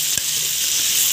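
Okra sautéing in a pan with onion and peppers, a steady bright sizzle with one brief stirring knock near the start, close and alone without talking.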